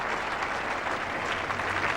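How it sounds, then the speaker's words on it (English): Cricket crowd at The Oval applauding Bob Woolmer's century in an England v Australia Test match, a sustained, even wash of clapping from a large crowd, loud and continuous throughout. "deserving the acclaim of this able crowd"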